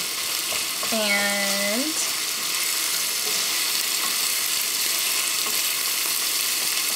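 Ground beef and onions fry in rendered fat in a pan, giving a steady broadband sizzle from start to end, with a short voiced sound near the start.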